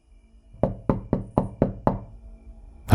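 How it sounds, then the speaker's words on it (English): Six firm knocks land on a door in an even rhythm, loud and close, with silence after them and a final thump at the end. "I woke up to a knock at the door."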